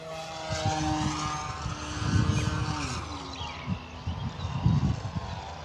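An RC Dancing Wings Stick 14 model airplane with a 1.4 m wingspan flies at full throttle on a windy day, its steady propeller whine rising and falling as it passes, with wind buffeting the microphone throughout.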